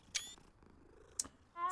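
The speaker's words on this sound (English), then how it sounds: "Oh, you're pretty. Hi, pretty kitty." A cat in the Hogwarts Legacy video game, in the Transfiguration Courtyard, gives a soft, low purr under brief high chirping game sounds.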